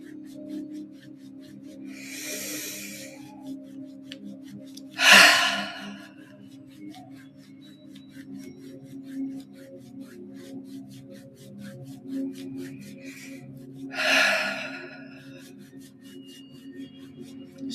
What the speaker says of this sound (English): Deep belly breaths here.